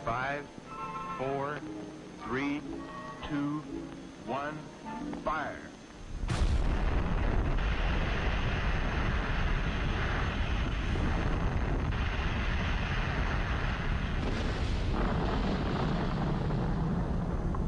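An atomic bomb test explosion erupts into a sustained, loud rumbling roar that persists unbroken after someone narrates in Spanish.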